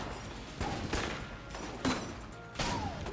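M16 and RPG gunfire from Enter The Gungeon rattles in four quick bursts about half a second to a second apart, crisp and fairly loud, without voices.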